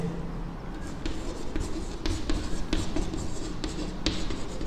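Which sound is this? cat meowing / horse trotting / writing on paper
writing on paper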